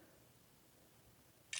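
A Huawei P8 Lite phone camera fires a single short shutter click near the end, crisp and close, after a stretch of near silence.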